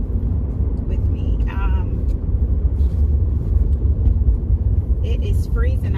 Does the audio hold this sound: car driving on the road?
yes